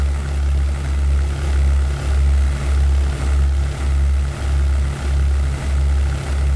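Loud, steady drone of a P-51B Mustang's piston engine and propeller in the flight sim European Air War, a continuous low roar pulsing in slow regular beats with no talk over it.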